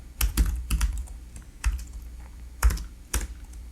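Someone types on a computer keyboard to rename a file: several quick bursts of clicky keystrokes with short pauses between them, close and fairly quiet, with no talking.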